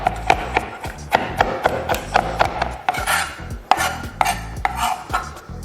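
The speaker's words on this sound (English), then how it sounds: "we're going with a rough chop with this cilantro" A knife rough-chops a bunch of cilantro on a wooden cutting board for a chimichurri sauce, a steady run of close, crisp thuds about every half second.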